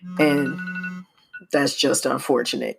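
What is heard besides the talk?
mobile phone vibrating with a reminder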